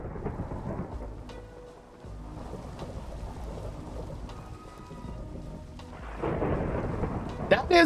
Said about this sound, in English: Oh, thunder roars!